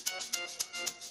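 Shaker sample played on a single C4 note in FL Studio Mobile for an amapiano beat, four to five bright, crisp shakes in a quick steady rhythm, close and fairly quiet with nothing else playing.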